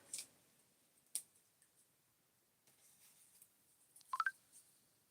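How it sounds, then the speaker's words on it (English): Several faint, sparse phone notification chimes and blips from incoming Snapchat messages, spread out with quiet gaps between them in a hushed room. "One of my friends is texting me on Snap, so I don't know if you guys can hear those notifications"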